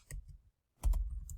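Typing on a computer keyboard, a few quick key clicks, then a short pause and a denser burst of close tapping, with no voices.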